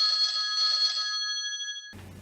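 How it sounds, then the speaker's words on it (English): A telephone bell rings loudly and close for about two seconds, a steady electronic trill that cuts off into a brief rustle of room noise. "Derek reaches clumsily for his phone"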